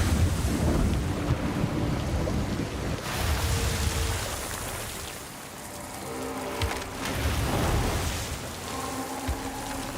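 Waves crash against a boat at sea in a video game, a broad rushing wash of water and wind that swells and subsides in surges, loud and close with faint tonal game sounds threaded through.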